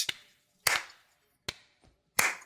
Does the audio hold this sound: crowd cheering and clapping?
yes